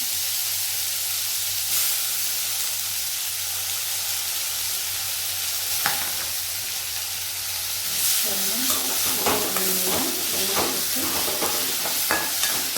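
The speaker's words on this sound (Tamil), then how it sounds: "இப்போ நம்ம கழுவி வச்சுருக்க இந்த வாழைப்பூவை இதில் போட்டு நல்லா வதக்கி எடுத்துக்கலாம்." Washed banana flower sautés in about two spoons of oil in a pan, giving a steady close sizzle and hiss. Toward the end, scraping stirring strokes and clicks of a spatula against the pan join in.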